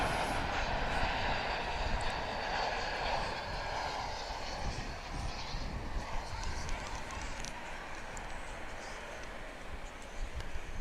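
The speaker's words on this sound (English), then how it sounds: "So about to enter your vision is the Qatar plane." A Qatar Airways jet taxis or passes at DFW International Airport, a broad, steady engine roar heard at a distance for the whole clip, without strong peaks.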